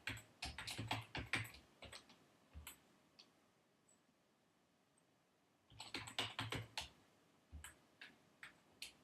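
Fingers type a short script on a computer keyboard in two close bursts of rapid clicking keys, separated by a few seconds of near silence.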